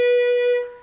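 A single bowed fiddle note B, played with the first finger on the A string, rings out clear and close as a sustained tone, then fades away quickly.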